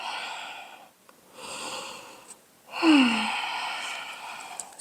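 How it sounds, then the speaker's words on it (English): Slow yoga breathing during a stretch: three long airy breaths, each a soft whooshing inhale or exhale separated by brief pauses, the last one fuller and louder, close and alone with no talk. "breathe in and out"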